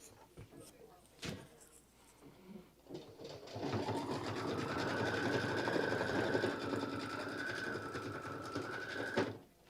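A Kimberbell embroidery sewing machine runs a placement stitch for foam appliqué, a steady fast mechanical whir lasting several seconds after a few knocks and clicks, then stopping with a click.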